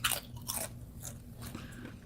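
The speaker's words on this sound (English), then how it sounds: "listening to Chantal crunch down on some chips" A person crunching down on chips, with dense, crisp bite-and-chew crackles repeating close to the microphone over a low steady hum.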